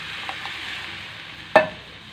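Brinjal curry sizzles steadily in the pan, then tamarind pulp pours in with one short, sharp splash that briefly flares the hiss before it settles back to a low simmer.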